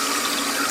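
Running water pours steadily to rinse fixer off photographic film negatives in a darkroom, a close, loud, continuous hiss and gush with no voices.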